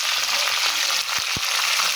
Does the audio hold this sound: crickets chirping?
no